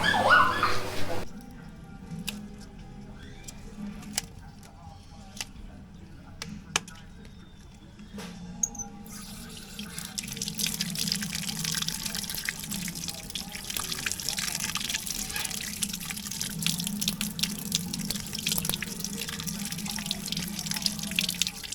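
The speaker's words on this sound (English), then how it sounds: "Scallion and thyme, we just go wash them off" A kitchen tap runs while scallion and thyme are rinsed for curry chicken in Jamaica; steady splashing water fills the latter half after quieter dripping and clinks, with a dog barking at times.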